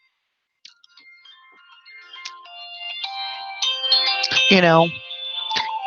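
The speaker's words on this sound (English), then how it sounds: "I forgot to turn the phone off, so let's do that real quick." A phone ringtone plays a melodic electronic tune that builds in loudness over several seconds, with a person speaking briefly over it.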